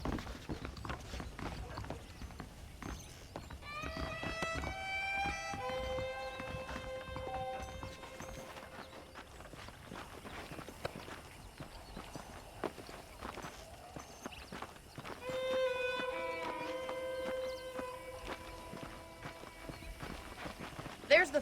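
Steady clip-clop of horse hooves while riding at a walking pace in Red Dead Redemption, running under spoken dialogue and game music throughout, with a brief whinny-like call at one point.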